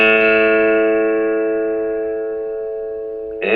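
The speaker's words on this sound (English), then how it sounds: "Now we'll go to the A string," A guitar's A string, the fifth string, is plucked once during tuning and rings as a sustained pitched note that slowly decays. A faint new pluck or tap comes in right at the end.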